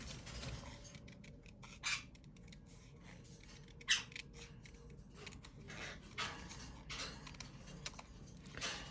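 Close, quiet scissors snip and slide through paper while cutting something out, with irregular small clicks and a few louder snips over a soft background hiss, and nobody speaking.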